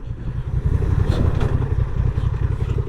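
A Honda Transalp motorcycle engine rumbles steadily while riding, a dense, continuous low drone held close and fairly loud with no pauses.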